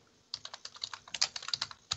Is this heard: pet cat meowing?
no